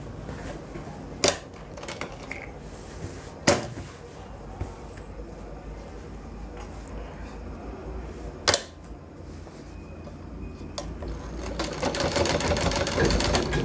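A sewing machine stitches a bone pocket on a pant, giving a soft, steady mechanical whir with a few sharp clacks spaced through it and a louder run of stitching toward the end.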